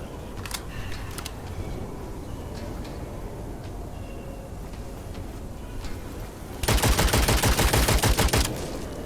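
Gunfire in the shooter game Witchfire: scattered faint shots and clicks over a low rumble, then a loud rapid burst of automatic fire near the end.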